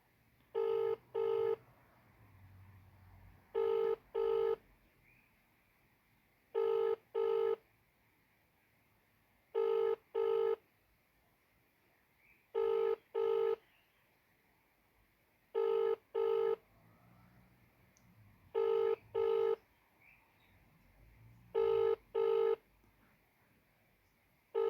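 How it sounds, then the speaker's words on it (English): Outgoing call ringback tone on a telephone, eight evenly spaced double rings repeating about every three seconds, loud and clear over a quiet room with faint low rumble between rings. "I give him a call now"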